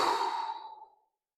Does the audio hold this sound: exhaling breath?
yes